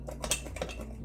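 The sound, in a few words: spoon mixing lime juice and sugar in a container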